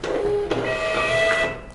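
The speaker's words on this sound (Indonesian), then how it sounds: "printer akan printing save test print ya" A Kassen DT640 label printer runs a self-test print, a loud whirring motor hum with high whining tones and a brief clunk near the start, steady for under two seconds.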